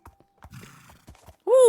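A Minecraft horse in a survival world: a few soft hoof thuds, then a short, loud whinny near the end, close up, with no talking.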